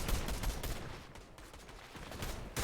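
Rapid gunfire crackles in a duos match of a shooter video game, a dense burst of shots up close, a brief lull, then another shot at the end, with no speech.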